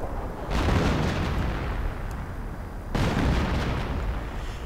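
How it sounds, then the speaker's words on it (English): Artillery shells exploding in a Company of Heroes battle, two heavy booming blasts about two seconds apart, each followed by a rumbling, crackling roll over constant noisy battlefield ambience. "artillery went in"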